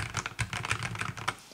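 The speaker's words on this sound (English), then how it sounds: "Now the keycaps when typing," Typing on an Epomaker MC66 mechanical keyboard fitted with PC keycaps: a quick, uneven run of close, crisp key clacks with a few heavier strikes, with no voice.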